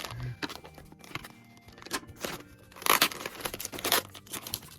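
Packing tape rips loudly off the cardboard box of a FNaF Scraptrap plush toy in repeated close tearing bursts, with crinkling between pulls and the two strongest rips near the end.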